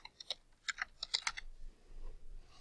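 Quick clusters of keystrokes on a computer keyboard, about a dozen close crisp clicks in short bursts, then quiet room tone.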